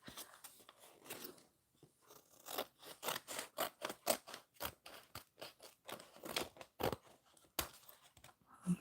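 Scissors snipping through paper while gift-making crafts, a quiet close series of crisp irregular cuts and scrapes with short pauses between strokes.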